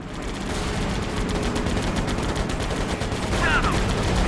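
Continuous rattling aircraft machine-gun fire in the World War II flight game Air Conflicts Pacific Carriers, dense rapid bursts over a loud engine drone, sustained throughout.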